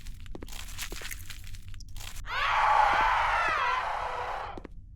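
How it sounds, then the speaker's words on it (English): A sudden wavering scream erupts in a horror video game, loud and sustained for a couple of seconds over a low background rumble and scattered crunching, after scraping noises, with no talking. "Bro, stop with the random screaming"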